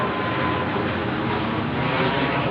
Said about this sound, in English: Smaller plane, but over my head at this late time of night